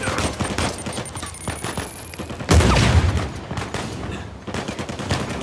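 Rapid bursts of pistol and gunfire in Uncharted 4 crackle through a busy battle scene, with a sharp louder blast midway and a dense, continuous barrage of overlapping shots around it.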